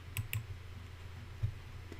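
Mouse clicks while selecting tools in Google Docs: two quick soft clicks close together, then another click a moment later, faint against quiet room noise.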